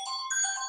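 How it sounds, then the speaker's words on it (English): A short electronic phone ringtone chirps in a quick melodic burst of bright tones, faint and brief, with no voices. "sorry, my phone interrupted me"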